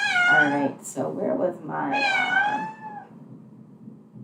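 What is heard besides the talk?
cat in heat meowing in the background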